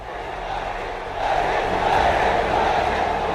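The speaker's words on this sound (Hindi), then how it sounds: "मोदी के रोड शो में भारी भीड़ उमड़ी" A large crowd gathers at a political road show in Palakkad, Kerala, a steady broad roar of many voices that swells louder partway through and holds at a dense, continuous level.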